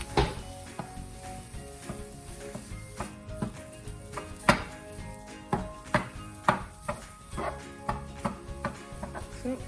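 Sausage being chopped and broken up with a utensil in a hot pan for omelets, a steady series of sharp scraping knocks against the pan over a soft sizzle.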